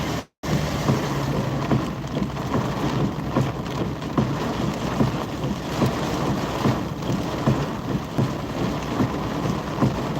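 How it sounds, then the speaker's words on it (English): Heavy rain and wind from a thunderstorm passing overhead in northwest Kansas, a steady loud broadband roar of downpour with gusts and low rumbling, continuous throughout. "The storm's almost over us"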